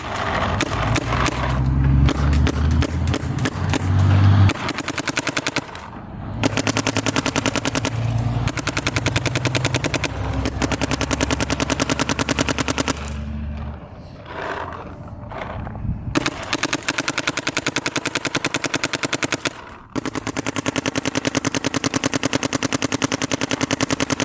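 Shocker AMP and Planet Eclipse 170r paintball markers fire in long, rapid bursts of sharp pops, loud and close, separated by brief pauses.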